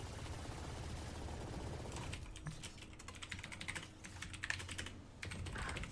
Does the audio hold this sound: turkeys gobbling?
no